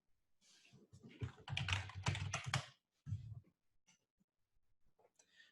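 Quiet bursts of typing on a computer keyboard, rapid clustered key clicks in two main flurries with a pause between, then a few sparse taps, close and soft.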